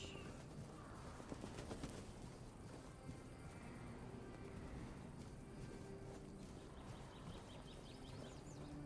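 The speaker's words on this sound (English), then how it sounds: "Birds." Birds chirp in the open world of the fantasy game Tainted Grail: The Fall of Avalon, with faint high calls over a steady wash of wind and water ambience.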